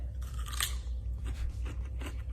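A crisp bite into a big, firm cucumber, then a few wet crunching chews, close and loud, with no talking.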